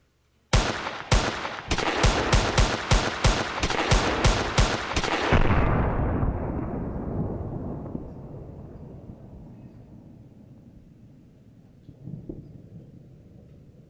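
Rapid volley of loud, sharp gunshots at a shooting range, about a dozen cracks in quick succession over five seconds, then a long rumbling decay with a faint later thump.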